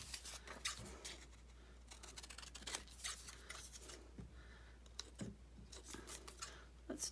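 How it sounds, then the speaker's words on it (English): Scissors snip through fabric in a series of short, crisp cuts with rubbing and rustling between them, close by and fairly quiet, while stamped fabric tags and pockets are being made. "Let's do a little snip"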